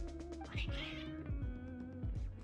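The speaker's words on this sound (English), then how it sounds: "Your cats seem pretty worked up" Agitated cats in the game Genshin Impact meow repeatedly, several sharp, insistent cries in quick succession at close range.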